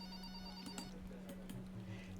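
A phone ringing in the video game Clam Man: a steady electronic ringtone hum with faint beeping tones, quiet and alone.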